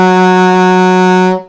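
Alto saxophone holding a low E flat with the octave key off, a loud, full, buzzy sustained note that stays steady for about a second and a half before stopping.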